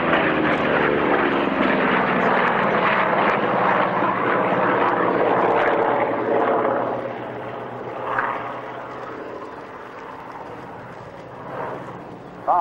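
WWII US Navy Corsair fighter that saw Pacific combat in 1945, flying a formation loop at Duxford; a loud piston-engine roar swells past and then fades into a distant drone with brief surges, mixed with faint commentary.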